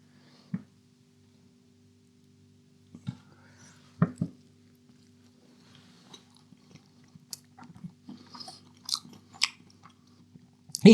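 Someone chews and bites into a Dr Oetker Ristorante mozzarella pizza with slightly underdone dough, giving a few soft crunches and wet mastication sounds spread out over a quiet background, up close.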